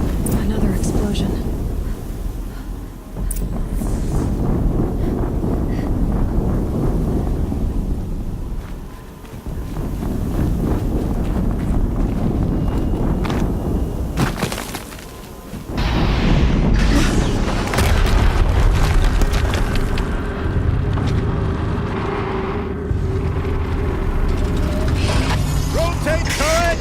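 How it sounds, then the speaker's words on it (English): Explosions rumble and boom through the machine battle in Horizon Zero Dawn, with heavy low-end blasts, mechanical clanking and dense action noise throughout, briefly dipping before surging again. "Another explosion."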